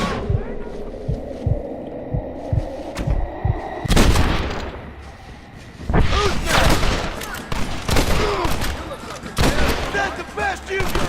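Gunfire in a Red Dead Redemption battle: an opening run of rapid, evenly spaced shots gives way to heavy, ragged bursts of loud firing and crashes, with a brief lull between volleys.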